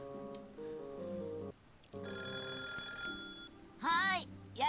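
A telephone rings in the Digimon Adventure anime, a repeated electronic bell tone under background music, with voices joining near the end.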